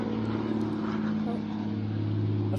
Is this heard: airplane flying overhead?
yes